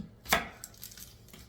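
Knife chopping onions on a board: one sharp, loud chop followed by a few fainter cuts, close up, with no voices.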